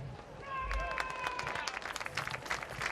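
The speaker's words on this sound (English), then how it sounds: "It's a nice hand from the great crowd that's here this afternoon." Football crowd applauding as an injured player is helped off the field by training staff: scattered clapping from a large outdoor crowd, moderately distant, with whistles and other noise mixed in.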